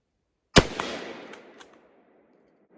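An American Enfield Model 1917 rifle fires a single sharp, loud shot outdoors, followed by a long decaying echo that rolls away over about two seconds.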